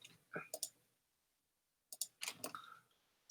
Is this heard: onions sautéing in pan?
no